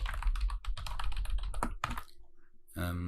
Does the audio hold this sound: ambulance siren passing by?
no